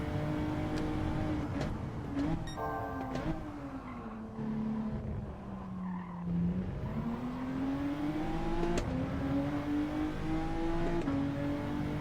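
A race car engine revs hard in a racing video game time trial, its pitch climbing and dipping through the gear changes, loud and continuous with no talk.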